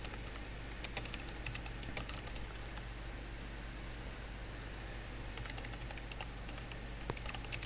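Steady run of computer-keyboard key clicks, quick and uneven in rhythm, close up over a constant low electrical hum, no voices.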